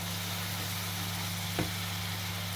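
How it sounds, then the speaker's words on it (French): Onions frying in a pan give a steady, close sizzle that runs the whole time, with one brief louder clatter partway through. "Alors là, ça commence à bien griller, les oignons."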